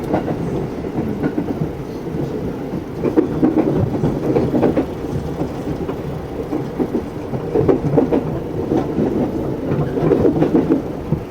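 A KRL commuter train rolls between Depok Baru and Juanda, heard from inside as a steady rumbling ride with rhythmic clickety-clack wheel beats over rail joints, swelling louder at times.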